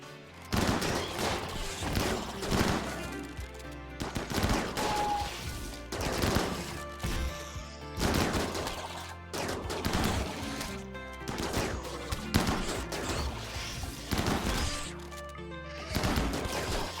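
Heavy automatic gunfire from a chain shotgun in the colony-survival game RimWorld, dense overlapping bursts of blasts and crashes firing in repeated volleys with brief gaps, loud and close.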